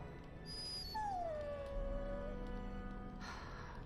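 A dog in the video game Dragon Age Origins lets out a drawn-out, falling whimpering whine, soft and plaintive, with faint game ambience and no talk.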